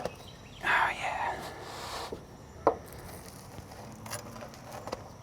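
A knife cuts into a crusty pizza baked in a Solo Stove Pi pizza oven, making a few crunchy, scraping cuts followed by a sharp click. The sounds are close and fairly quiet, with soft room noise in between.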